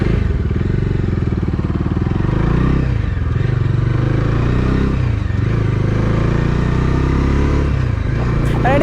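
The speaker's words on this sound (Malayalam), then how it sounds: "ഇനി നമുക്ക് ഡോമിനർ 250യുടെ റൈഡിംഗ് എക്സ്പീരിയൻസ് എങ്ങനെയുണ്ടെന്ന് നോക്കാം." Bajaj Dominar 250 motorcycle ridden at a steady pace, its engine drone loud and continuous throughout with slight rises and dips in pitch as the throttle shifts, wind rush mixed in.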